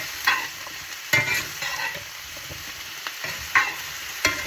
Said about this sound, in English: I'm just going to move them around the pan so that all the oil coats the onion and the potatoes